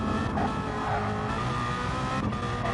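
Race car with a 1.3 engine held at the rev limit on the extended Nurburgring in a racing video game, a loud, steady screaming engine note with faint tyre noise and no talk.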